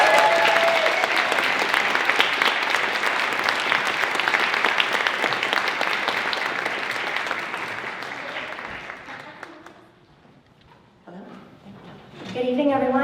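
A festival audience gives a long, loud round of applause and cheers for an Irish dance academy, fading out near the end before a voice begins speaking.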